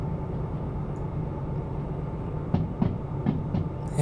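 A train rolls along rails in the simulator game Derail Valley, giving a steady low rumble. Several sharp clicks and clanks, likely wheels passing over joints, come through near the end with no one talking.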